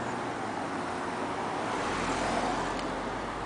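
A car sweeping close past a pedestrian waiting at a busy intersection on a road without sidewalks, its broadband road roar steady and loud against continuous traffic noise.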